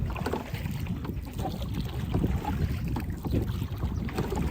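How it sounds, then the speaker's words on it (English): Strong gusty wind buffets the microphone on the Gibraltar waterfront, a steady broadband roar near and loud throughout with no talking. "the wind is quite strong today compared to other days"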